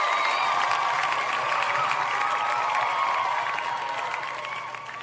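Dense applause fills the space steadily, many hands clapping at once in a continuous wash that fades slightly at the end.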